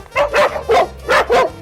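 Small dogs in a dog enclosure, kept for hunting rabbits, yap in four quick, close barks with a whiny edge, evenly spaced and loud.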